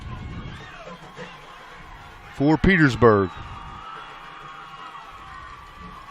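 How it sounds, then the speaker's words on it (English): At a Tucker County versus Petersburg high school varsity football game, a steady crowd roar fills the background, rising to a loud whooping shout, while a commentator talks over it. "The Tucker County crowd is awake and cheering loudly."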